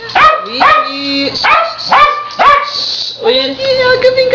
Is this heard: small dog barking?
yes